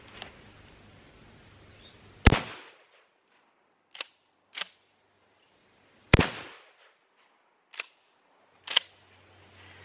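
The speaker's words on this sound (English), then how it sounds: "We're going to be shooting at the 2 different watermelons this time just to see how destructive they are." Shotgun shots firing fragmentation slugs at two watermelons outdoors, six sharp, separate bangs spaced a second or more apart, the two loudest booming with brief echo.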